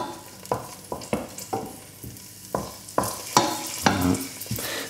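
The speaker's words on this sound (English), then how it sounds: "Let's just move the garlic around a little bit." Garlic sizzles softly in a warming pan on medium heat while a utensil stirs it, giving about a dozen sharp scraping clacks at an irregular rhythm over the constant frying hiss.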